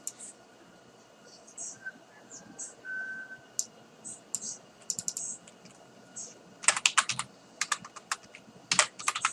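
Computer keyboard keys tapped in scattered light clicks, sparse at first and then bursting into quicker clustered typing, close and fairly quiet with no talk.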